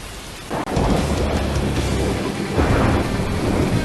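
Stormy weather in the Asura Project video game, heavy rain pouring steadily while a sharp thunderclap cracks early and deep rolling thunder rumbles on, loud and close with no talking.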